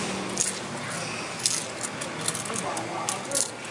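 Loose coins clink and jingle in the hand at close range, with a few sharp metallic taps over a noisy background, while someone talks nearby.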